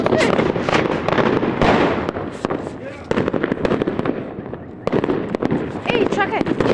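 Firecrackers and fireworks explode on New Year's in a dense, continuous barrage of sharp cracks and pops close by, with people talking amid the blasts.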